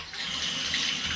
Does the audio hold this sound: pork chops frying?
no